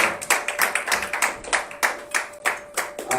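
A congregation at a Sunday church service claps its hands in a steady, brisk rhythm, sharp close claps repeating evenly about every quarter second with no voices over them.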